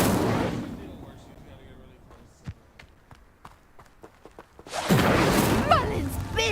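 Fire spell cast in the Hogwarts Legacy video game: a sharp whoosh and burst of flame near the end, after a stretch of quiet game ambience with soft scattered thumps and a spoken word at the start.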